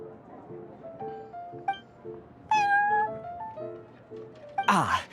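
A cat meows several times in the Genshin Impact card game, its short bright calls rising over steady game music, followed by a louder burst of game sound effects near the end.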